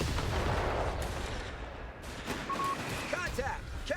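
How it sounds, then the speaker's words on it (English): Mortar blasts and gunfire sound from the Company of Heroes 3 battlefield as dense, rumbling bursts of distant shots, with a few faint voice fragments near the end. "Mortar round on retreat there."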